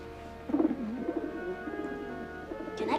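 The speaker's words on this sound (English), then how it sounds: "Eddie, what you got there? A pigeon." A pigeon coos softly and repeatedly in the foreground of an indoor scene from a 1982 TV drama, low throaty warbles over a faint steady hum, with no talking.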